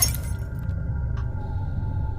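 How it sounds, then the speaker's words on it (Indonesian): A glass bedroom window shatters after a stone is thrown at it, a single loud crash near the start that fades into a low rumbling background. "tiba-tiba jendela kamarnya ada yang melempar memakai batu, yang mengakibatkan jendela kamarnya pecah"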